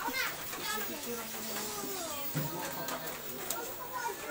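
A crowd of children plays and chatters at a rainy birthday party, overlapping high voices and shouts filling the room continuously at moderate loudness.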